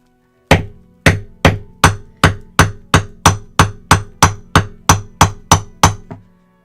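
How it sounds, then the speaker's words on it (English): A hammer strikes a rock wrapped in a sock fifteen times in a steady, fast rhythm, each hit a sharp, loud, close thwack with a brief ringing decay and no talking. "now we gotta hit it with a hammer"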